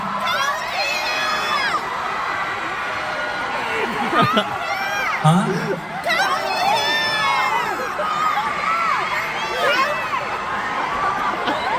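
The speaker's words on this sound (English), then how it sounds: "Someone is yelling, but I can't hear you." A concert crowd at The Light Year Tour VIP soundcheck in Sydney, 2024, yells, whoops and cheers continuously, with a single voice briefly heard over the din.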